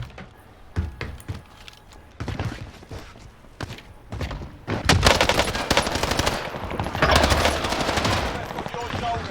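Shotgun fire in a video game goes off in loud, repeated blasts that come thicker and heavier in the second half, with voices talking in the mix.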